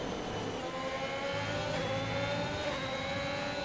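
Sim racing cars' engines rev and whine steadily through a corner in a league race, a continuous mid-pitched drone with shifting tones and no talk.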